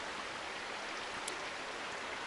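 A creek in the Cascade Mountains rushes steadily on a chilly late-summer morning, its dense, even water noise filling the scene without a break.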